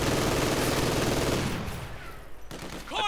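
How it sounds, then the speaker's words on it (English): MG42 machine gun fire in Company of Heroes 2, a dense, loud fusillade of rapid bursts that fades after about a second and a half, followed by scattered distant shots and whizzing effects. "MD42 unleashing bullet hell upon the Russians"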